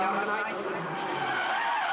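Nissan Skyline drift car skidding on a track at a drift event, tires squealing in a sustained, wavering shriek, fairly near, with talk over it.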